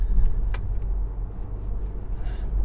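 A 2020 Porsche Macan with a 4-cylinder engine drives through corners, giving a steady low engine and road rumble inside the cabin, with a few faint clicks over it.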